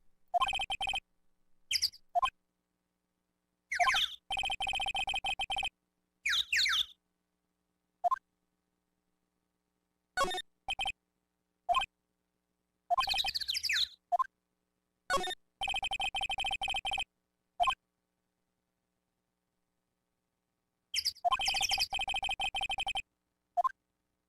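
A cell phone rings in the Ace Attorney video game as a loud electronic tone that repeats in steady bursts between clear silent gaps, with short chirping game sounds between the rings.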